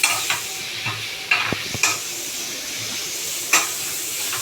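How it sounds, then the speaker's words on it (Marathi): Onion, ginger and garlic fry in a pan with a steady sizzle and hiss, broken by several sharp scraping stirs of a spatula, close and fairly loud with no talk. "कांदा अद्रक लसूण वाळून घेऊया आणि लालसर व्हायला पाहिजे."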